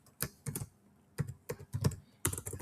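Keys clack on a computer keyboard during work in SAP S/4HANA, coming in short irregular bursts of taps with brief pauses, close and clear, with no talking.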